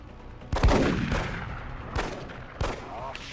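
Gunfire in the turn-based strategy game XCOM: Enemy Within as a shot misses its target: three heavy booming blasts, one large and two smaller, spaced about a second apart over a low rumble, loud and close.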